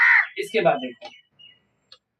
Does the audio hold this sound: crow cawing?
yes